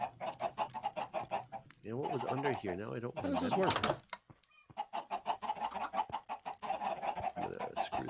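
Minecraft chickens cluck in short bursts around a chicken shack, mixed with game sounds and frequent overlapping talk from players.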